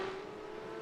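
Porsche race car engine in a sim racing game at Donington Park, a steady sustained drone holding one tone for under a second, fairly even in level with no voices.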